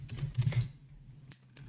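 Typing on a computer keyboard: a quick run of close key clicks, then a pause and a couple of isolated taps, no talking.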